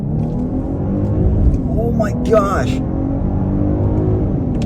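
Genesis GV80 with a 3.5-litre twin-turbo engine accelerating hard in sport mode from a rolling start in first gear: a loud, steady engine drone and rumble that climbs in pitch, with a brief excited voice over it.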